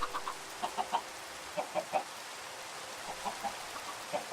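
Chickens in Minecraft give repeated soft clucks in small clusters throughout, faint and steady beneath a low background hiss.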